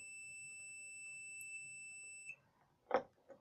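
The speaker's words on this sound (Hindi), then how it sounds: "ये देखिए बीप की आवाज़ आ रही है।" A multimeter's continuity test beeps while its probes touch a wire, a steady high electronic tone that holds for a couple of seconds then cuts off, followed by faint handling clicks and bumps, quiet and close.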